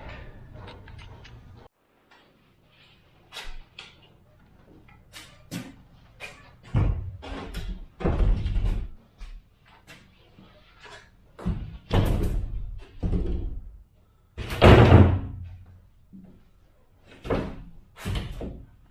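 A subfloor board being knocked down into place during a school bus conversion, heard as a series of loud, irregular thuds and bangs close by, separated by pauses, with no talking.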